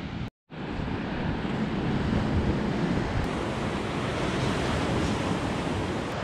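Ocean surf rolls steadily onto a beach crowded with surfers at Byron Bay, a continuous loud wash of breaking waves mixed with wind buffeting the microphone and a brief dropout near the start.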